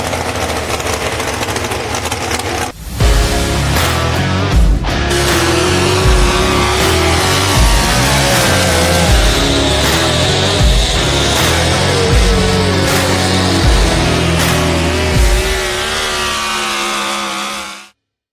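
A Ford truck at a truck pulling event roars with a loud, sustained engine that holds steady after a brief dip near the start, continuous and close, with no talking, before cutting off abruptly at the end.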